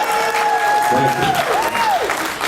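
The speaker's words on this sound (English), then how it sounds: "7 of you clapped there" An audience at a ComicCon 2012 panel with a celebrity guest breaks into loud applause, mixed with a voice speaking over it.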